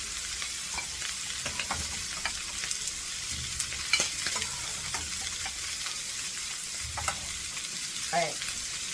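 Tostones, slices of plantain, frying in oil in a pan, giving a steady close sizzle and crackle throughout with a few faint clinks from handling.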